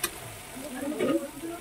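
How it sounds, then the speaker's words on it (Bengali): Food lightly frying in a pan during home cooking, giving a soft, steady sizzle with faint stirring up close; no other sounds stand out. "হালকা ভাজি হচ্ছে"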